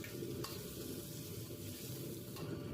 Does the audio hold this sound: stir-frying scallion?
yes